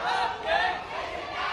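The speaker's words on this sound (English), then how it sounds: "the crowd screamed at them" An angry crowd at a Hong Kong street protest shouts and screams at police, a dense burst of raised voices rising and falling over a second or so.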